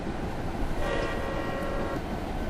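Freight train in the game Train Simulator 2016, Union Pacific: a continuous rumbling rail roll with a sustained horn-like tone rising midway for about a second, moderately loud, no voices.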